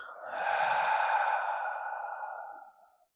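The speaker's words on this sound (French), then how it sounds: "une grande expire par la bouche" A long, deep exhale through the mouth during a morning yin yoga session, a broad breathy rush that swells quickly, holds steady for about two seconds, then tapers off into silence, close and fairly loud with no talk.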